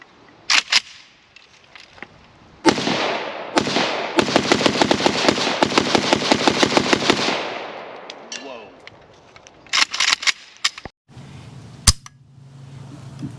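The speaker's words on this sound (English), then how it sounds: "Fox's very first rounds of 545 through anything." A rifle fires 5.45x39 rounds outdoors, likely an Arsenal SLR105A1 or SLR104FR AK74-pattern rifle. A few loud single cracks lead into a long, rapid string of shots, followed by more scattered sharp reports with quiet gaps between them.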